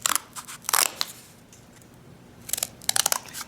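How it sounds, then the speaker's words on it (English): Scissors snip pieces off a craft stamp in two bursts of close, crisp crunching cuts separated by a quiet pause, with no talking. "I'm going to cut a few pieces off here."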